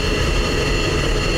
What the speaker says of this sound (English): Jet shut down.